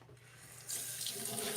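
Sink tap turned on to run water for washing a face, a quiet room giving way to a steady close rush of flowing water that continues to the end, no talking.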